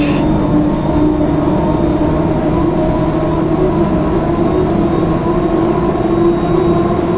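A hydroplane race boat engine at full throttle in HydroSim, a loud, steady droning roar holding constant throughout with no pauses or talk.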